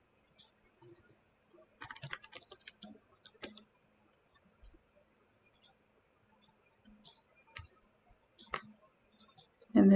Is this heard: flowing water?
no